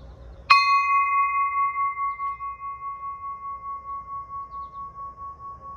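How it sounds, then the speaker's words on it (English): A single bell tuned to C sharp is struck once in a garden, ringing out clear and loud, then holding a long, slowly pulsing tone that fades gently over several seconds. "First a bell."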